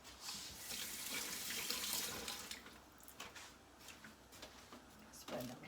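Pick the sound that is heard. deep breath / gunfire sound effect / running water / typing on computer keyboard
running water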